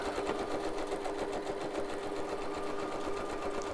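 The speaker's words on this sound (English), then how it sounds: "I'm going to do fast stitching" A sewing machine running fast and continuous while stitching ribbon, a rapid even mechanical whirr and clatter held close for the whole stretch without pause.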